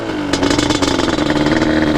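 A restored Yamaha Banshee two-stroke engine revs loudly up close, a raspy, crackling buzz pulsing steadily after a brief lower idle at the start.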